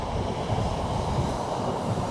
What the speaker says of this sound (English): we just got a freight train coming through